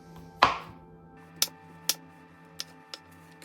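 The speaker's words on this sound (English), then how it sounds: "Now that I have cleaned this mushroom, I'm going to cut it and put it into the bowl" A knife cuts a mushroom on a cutting board, beginning with one firm thunk and followed by four lighter, sharp taps spaced unevenly, close by and with no speech.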